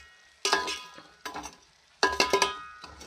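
Fried bread pieces stirred in sugar syrup for double ka meetha, with a spoon scraping and clinking against the pan in three short bursts and a soft sizzle between them.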